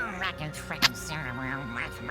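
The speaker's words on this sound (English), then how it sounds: "He sounds like Donald Duck." A quacking, Donald Duck-like character voice in a video game, with a short squawk peaking amid steady, lively talk.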